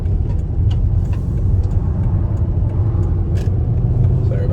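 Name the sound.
car driving on a road at 55 mph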